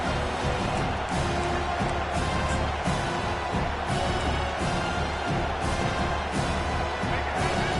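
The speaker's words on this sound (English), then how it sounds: "Decibels rising as the crowd gets behind this defense on third down." A stadium crowd roars steadily through a third-down defensive stand at a Michigan vs Penn State college football game, loud, dense and continuous with rhythmic swells.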